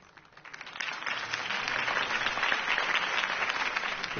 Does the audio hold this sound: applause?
yes